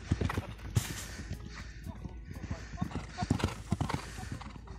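Horse trotting in a riding arena behind the scenes at the Grand Steeple-Chase de Paris, with a brisk, steady rhythm of close hoof beats throughout and a voice talking over them.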